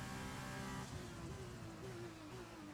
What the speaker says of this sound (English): Now we just let this Ferrari power unit do what it's built to do.